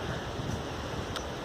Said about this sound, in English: I love watching the waves go over the rocks